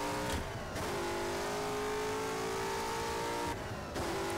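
A racing car in rFactor screams in first gear with its rear wheels spinning, the engine holding a loud steady high-revving drone, broken twice by brief dips as the revs cut and pick up again.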